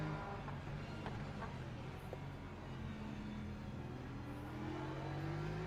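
A race car engine in Le Mans Ultimate sim racing climbs through its revs, a steady droning tone rising in pitch toward the end, moderately loud and continuous with a faint background hum.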